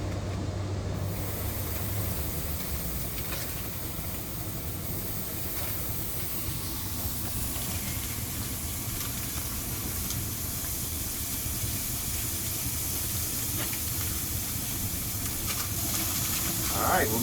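Burger patties sizzle on a Pit Boss pellet smoker outdoors, a steady broadband hiss that runs the whole time at an even, fairly loud level.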